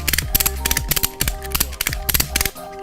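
An ANCRA S Line 15-foot camo ratchet tie-down strap is cranked close by, giving bursts of sharp metallic clicks in a fast repeating rhythm with brief pauses between strokes.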